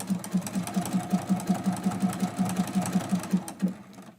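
A sewing machine quilts a townhouse-pattern mug rug, its needle thumping in a quick, regular pulse of roughly five stitches per second, close and clear, before stopping abruptly near the end.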